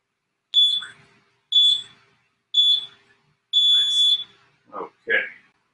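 Electronic beeps from a workout interval timer: three short beeps followed by a longer held tone, then talk in a room during a home band workout.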